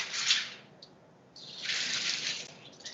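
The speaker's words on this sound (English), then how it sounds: "take a piece of parchment, and I'm going to run it under water" Tap water gushes over a sheet of parchment paper under a kitchen faucet, a hissing splash that starts, briefly drops away, then resumes steadily, fairly quiet and close, with no talking.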